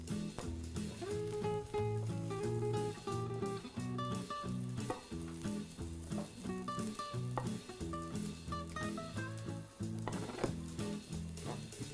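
An omelette cooks gently in a pan with a soft, steady sizzle. The sizzle runs throughout under prominent background music with melodic notes and a beat.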